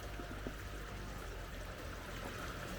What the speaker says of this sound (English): So the creek literally just flows underground under these trees